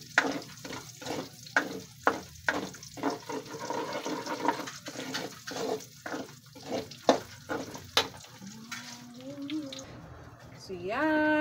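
Squid balls and kikiam fry in hot oil, bubbling and sizzling with repeated stirring scrapes in a steady rhythm, close and moderately loud, while a voice talks over it toward the end.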